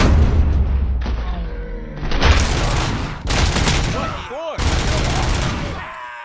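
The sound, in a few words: gunfire in the video game Robocop: Rogue City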